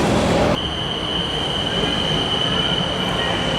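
A Bangkok metro train at rush hour rumbles past up close with a steady loud roar, a sustained high wheel squeal running through it after a sharp opening burst.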